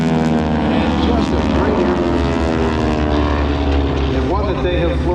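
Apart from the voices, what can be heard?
North American AT-6 Texan propeller airplane flying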